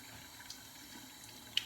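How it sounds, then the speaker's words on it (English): Running tap water rinsing a menstrual cup at a sink, a steady soft hiss of flowing water throughout, close but quiet, with a small clink at the end and no speech. "get the running water, kind of just like rinse it off"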